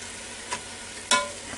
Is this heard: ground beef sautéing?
yes